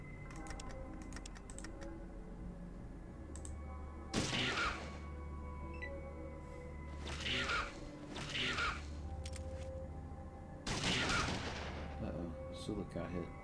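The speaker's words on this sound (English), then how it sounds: "Burst on the combat shotgun." Combat shotgun fired in bursts in Fallout 2: three loud volleys of rapid blasts spaced several seconds apart over a steady background hum and scattered clicks.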